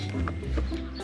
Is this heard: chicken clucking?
yes